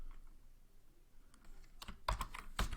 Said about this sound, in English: and we're going to type